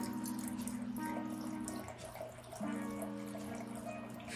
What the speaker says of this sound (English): The only way we're gonna know if it's still good to go is to pour it.